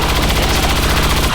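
Rapid automatic gunfire in the Xbox One game XCOM, a soldier shooting at an enemy trooper: a loud, dense burst of evenly spaced shots rattling continuously, with no voices.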